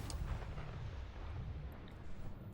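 Ship grav jump in Starfield: a steady deep roaring rumble that holds at even loudness throughout, with no voices.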